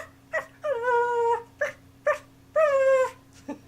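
A person's voice imitates a dog: short yips followed by two drawn-out, whiny howl-like whimpers over a faint steady hum, close and clear with no other talk.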